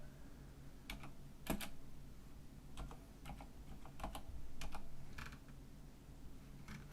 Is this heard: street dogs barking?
no